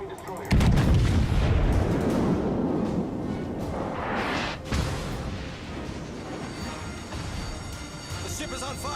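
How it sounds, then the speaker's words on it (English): Naval guns fire from warships in the World of Warships video game, a heavy booming blast with a long rumbling decay, then a second, softer boom midway, under game effects. "Concentrate fire on the enemy warship."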